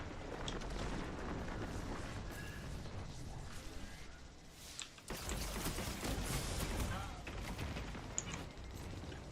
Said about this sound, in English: Somebody was shooting me.